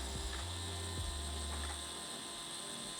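A Fanttik S1 Pro electric screwdriver backs long screws out of a year-old amplifier that has been rattling, giving a steady close motor whir with a ratcheting mechanical edge that tapers off toward the end.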